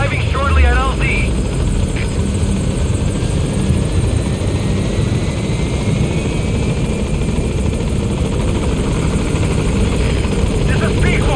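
A support helicopter in Metal Gear Solid V approaches a landing zone, its steady, loud rotor and engine drone filling the whole stretch, with a brief radio voice at the start.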